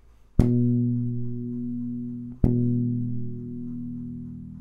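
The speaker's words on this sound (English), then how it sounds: "and then here's a harmonic." A bass guitar sounds a plucked normal note on the 7th fret of the E string, then a ringing harmonic at the same fret, two clean attacks each sustaining and slowly fading, alone.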